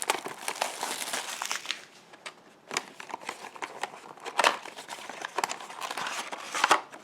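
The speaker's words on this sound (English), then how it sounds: "A lot of opening, a lot of packing material." Foil wrappers and packing material for Yu-Gi-Oh Storm of Ragnarok card packs crinkle and tear close up, a steady busy rustle with sharper crackles and rips throughout and no voices.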